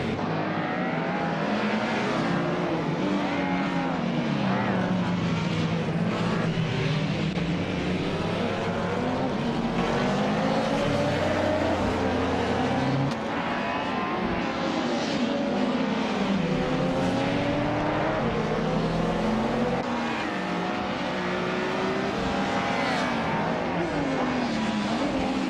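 Race cars including a 1988 BMW 635 CSI in a racing video game, several engines revving and shifting up and down in pitch as they race, loud and continuous throughout.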